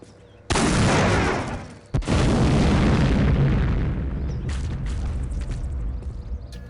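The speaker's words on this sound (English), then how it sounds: "The mini nuke launcher does what it says: insane radius and damage." A mini nuke launcher detonates in the video game Postal 2, a loud sudden boom that starts hard, is cut by a brief second blast, then rolls on as a long, dense rumble that slowly thins out.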